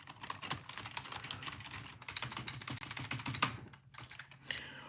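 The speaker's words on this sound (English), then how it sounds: "I don't know what to do with my hands, so I just press the keyboard." Computer keyboard keys clatter in a fast, steady stream of close clicks and taps, with a brief pause near the end before typing resumes.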